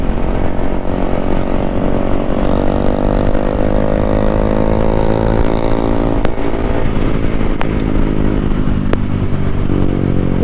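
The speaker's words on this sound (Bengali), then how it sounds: "কি খতরনাক লেভেলের হুইলি মারছে রাজ এখানে" A motorcycle with an aftermarket exhaust held in a wheelie on a public road during a group ride, loud close engine drone with shifting pitch throughout and a few sharp clicks near the end.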